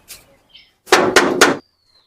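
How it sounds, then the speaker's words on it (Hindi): Three quick, loud knocks on a gate in a rapid, even burst, preceded by faint scattered taps and followed by near silence. "दूसरा कौन रुका खटखटाए गेटवा"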